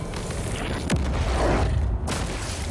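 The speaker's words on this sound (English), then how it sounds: "We have a second statue being destroyed" A stone statue crumbles apart in Shadow of the Colossus, a deep rumbling boom with grinding crashes that swell over about two seconds and then cut off.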